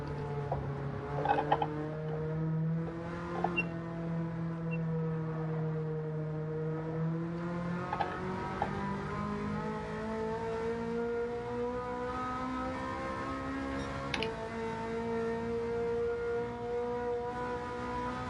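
A car engine in the racing game Gran Turismo 7 holds a steady high drone, its pitch climbing and shifting through long sustained revs with occasional brief sharp notes, loud and continuous with no voices.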